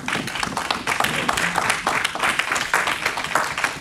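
Congregation clapping and applauding in a church service to acclaim the Lord, a dense, steady wash of many hands continuing throughout, fairly close and loud, with no speech over it.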